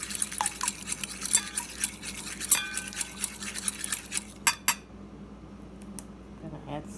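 A fork clinks and taps quickly against a bowl while beating a cracked egg into canola oil, a busy run of small metallic strikes that stops abruptly partway through, followed by near quiet.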